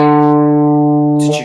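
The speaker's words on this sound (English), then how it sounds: "I play fret 5 on the A string" A single sustained plucked guitar note, fifth fret on the A string, ringing clearly and evenly, cut off near the end by a brief noisy touch.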